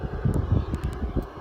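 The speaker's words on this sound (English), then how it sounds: "Blasting the shelter with with the wind" Strong wind buffets a shelter high on a moor near a transmitter, a steady, heavy low roar of gusts thumping against the fabric, close and loud throughout with no one speaking.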